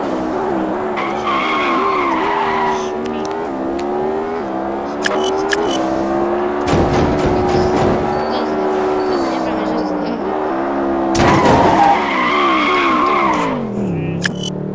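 Fast car racing in a video game, engine roaring at high revs with pitch climbing and dropping through gear changes, bursts of tire skid and squeal, loud and continuous throughout.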